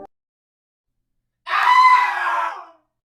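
A single loud scream rises and trails off after a stretch of silence, used as a sound effect and heard alone.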